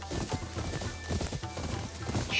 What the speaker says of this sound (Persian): کیف میکنه آدم اینجور اسب سواری میکنه